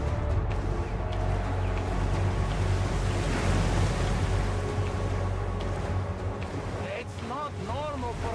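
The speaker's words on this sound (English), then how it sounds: "With the river, there are massive waves coming your way" Massive waves surging down a river in the video game Dawn of the Monsters, a loud continuous roaring wash of churning water with wind-like rush, dense and unbroken throughout.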